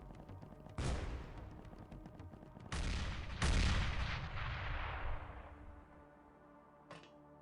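Loot exploding in the XPiratez video game: several heavy booming blasts in quick succession with long fading rumbles, then one last short crack near the end.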